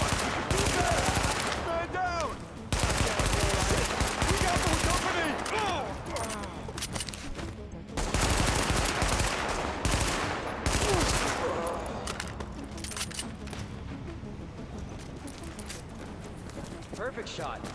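Rapid bursts and single shots of gunfire in a shooter video game, loud and close, coming in clusters with brief pauses while a person talks over the action.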